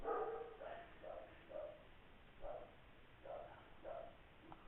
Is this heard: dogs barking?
yes